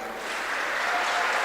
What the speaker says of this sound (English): We've got cheering section from the Emirates National School, Sharjah